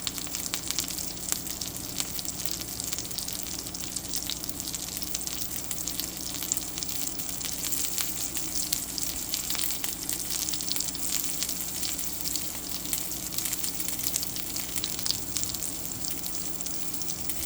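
A plant-based Impossible Burger patty fries in a pan with a steady, even sizzle and faint crackle, continuous and moderately close, no voices present.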